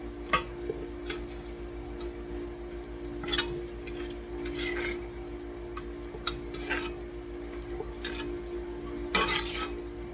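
Browned quail pieces being lifted from a frying pan into a bowl: scraping stirs, utensil clinks and taps over a continuous low sizzle of tallow, with a few sharper knocks near the end.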